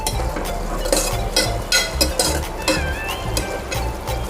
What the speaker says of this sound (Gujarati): ધાણા જીરું, એકવાર ફરી આપણે મિક્સ કરી લેશું.